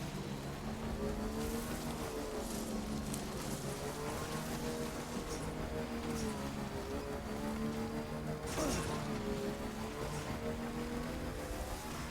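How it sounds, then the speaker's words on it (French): A motorcycle in the video game Death Stranding riding through snow, its engine a continuous drone with wavering pitch alongside steady rushing noise and a few brief louder bursts. "j'ai l'impression que la moto n'apprécie pas trop la neige, quand même"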